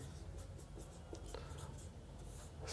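Pen or chalk writing during a Hindi history lecture: faint, continuous scratchy strokes at low level, steady and close, with no talk over them.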